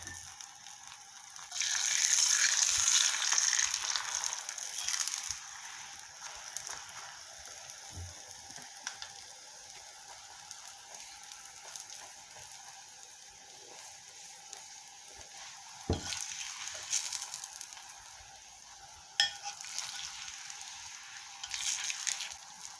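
Pumpkin chapati frying in cooking oil on a hot pan, a steady close sizzle that swells loud early on and then settles to a softer hiss with a few small crackles and clinks.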